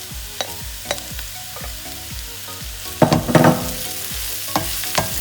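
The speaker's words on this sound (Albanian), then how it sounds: "Në këtë moment bëjmë hedhjen e kërpudhrave." Mushrooms tumble into a pan of golden fried onions, frying with a steady sizzle; repeated scraping stir strokes knock through the clip, with a louder burst of spattering around the middle.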